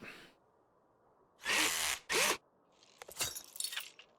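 A power tool in the Car Dealer Simulator game whirs in two short, loud bursts while it backs out radiator screws, followed by a scatter of light metallic clicks and clatters.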